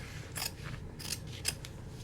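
Scissors snipping through flaps of denim fabric, giving three or four crisp, close cuts in an uneven rhythm over a steady low background hum.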